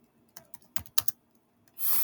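Computer keys clack in a few short, uneven bursts while a description is typed. Each tap is close and light over a quiet room. A brief whoosh comes in at the very end.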